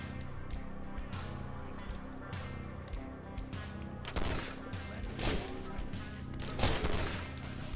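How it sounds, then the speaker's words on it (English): Rapid bursts of gunfire from the video game Ashes: Hard Reset, with repeated sharp shots through the clip and a heavier cluster of loud blasts in the second half. "Wow, you missed both of those shots."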